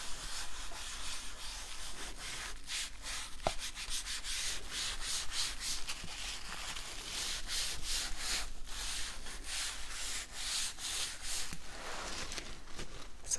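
Close, steady rubbing scrubs across a surface, a dry, rhythmic sanding-like swish repeating for the full stretch with no voice.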